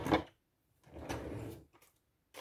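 A drawer that was sticking is pushed shut, making a short knock, then a scraping slide lasting about half a second and a soft final bump, close and fairly quiet with no talk.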